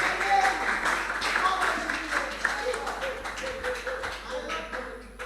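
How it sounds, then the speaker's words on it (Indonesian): An audience at a church youth sermon competition gives dense, sustained applause for a contestant, with a voice speaking over the clapping. "kita kasih aplaus sekali lagi buat Bro Ginting"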